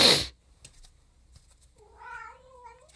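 A pet cat meows indoors, a drawn-out, wavering call rising and falling after a brief burst of noise and a quiet pause, close and moderately loud.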